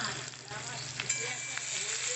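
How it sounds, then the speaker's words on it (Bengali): Onion frying in mustard oil with black cumin seeds in a wok for a shrimp and bottle-gourd-peel paste dish: a steady, close sizzle and crackle with faint stirring scrapes, no talking. "পেঁয়াজটাকে একটুখানি দিয়ে হালকা হচ্ছে ভেজে নেবো"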